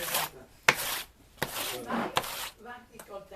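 A knife works through cheese focaccia, scraping and rasping against the crust and board with a few sharp knocks, close up, while a voice talks in the background.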